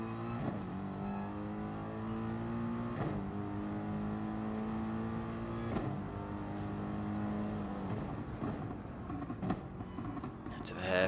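Race car engines thunder around the Nürburgring GP circuit as a Mercedes sweeps past, a continuous loud harmonic drone with rising and falling revs and sharp gear-change breaks, over a steady background of other cars.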